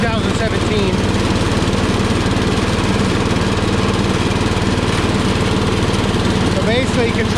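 A Power King garden tractor's 14 horsepower engine runs at a steady, loud, rough drone while mowing, with someone talking over it.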